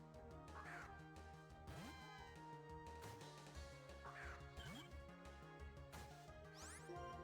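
A bird Pokémon's cry in a Pokémon video game, repeated chirping calls over steady looping game music, loud and continuous throughout.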